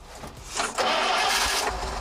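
A big off-road truck engine cranks over and fires up, settling into a loud, steady mid-range roar close by after a brief sputtering start.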